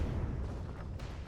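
Heavy, continuous blasting from a shotgun in the sci-fi survival game Empyrion Galactic Survival, a loud booming roar with a sharper burst near the end and no pause between shots.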